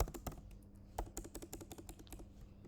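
Rapid, uneven keystrokes on a computer keyboard while entering a script tag, with sharp clicks in quick bursts and short pauses, close and clear with no voices.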